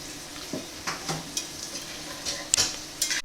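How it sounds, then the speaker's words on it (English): Cubed pork sizzling in a pan as it is stirred for canning, a steady soft frying hiss broken by scattered scrapes and clinks of a utensil against the pan, close and without talk. "the pork has been cooking for a little while. It's released a lot of its juices"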